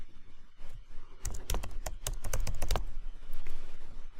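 A rapid run of computer keyboard keystrokes clicks close by while text is typed, a dense burst of sharp taps in the middle over a faint background hiss.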